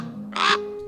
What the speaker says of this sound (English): What did I just say, you noisy bird?